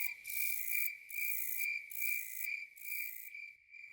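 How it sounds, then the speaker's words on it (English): Dense tropical forest chorus at night, dominated by a loud, steady insect and cricket drone with pulsing high-pitched trills that swell and drop in regular bursts, close and continuous with no voices. "Jungle sounds, wow."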